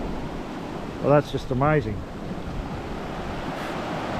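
Waves washing up on a clear-water beach at Tippum near high tide, a steady broad rush of surf with wind noise on the microphone, someone briefly speaking over it.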